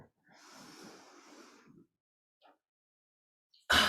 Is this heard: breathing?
yes